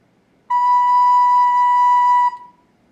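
A recorder sounds a single held note B, clear and steady for nearly two seconds, then stops cleanly with a short fading tail in a quiet room.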